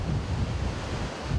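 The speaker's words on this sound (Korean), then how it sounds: "이야, 정말 호도협의 물소리가 엄청납니다" Roaring river water rushes through the narrow Tiger Leaping Gorge, a continuous loud, dense wash of turbulent noise with heavy low rumble and no let-up.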